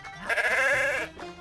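A goat on a Maryland farm in Union Bridge gives a single clear, wavering bleat lasting about a second, close and loud, with no talk over it.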